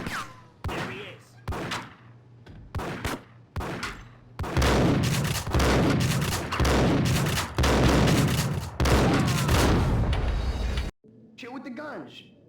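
Gunfire in the video game Max Payne: a string of sharp single shots gives way to long, dense bursts of rapid automatic fire that ring loud and close, then stop abruptly with a brief tail.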